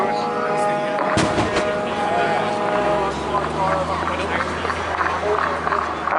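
Naval 4.5-inch gunfire from HMS Monmouth shelling a beach during a Royal Navy and Royal Marines display at Bournemouth, one sharp loud blast near the start, then rumbling engines and a busy outdoor crowd.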